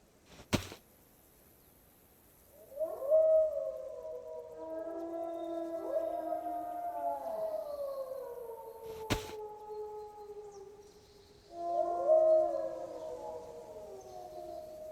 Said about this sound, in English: Just because you hear wolves doesn't mean they're on you,